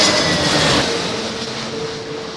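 Jet aircraft engines roar at London Heathrow Airport in high winds, a loud broadband rumble that swells and then eases slightly as the throttles are worked up and down.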